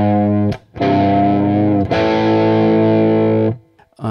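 Distorted electric guitar picks a low note on the sixth string at the third fret and bends it up about a half step, in two loud sustained attacks with brief gaps between and no talk.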